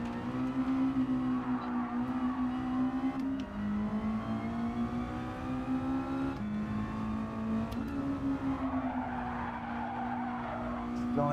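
Race car in Gran Turismo 7 sliding through a corner, a sustained engine drone with tyre squeal rising and falling over several seconds, loud and close, with occasional voice underneath.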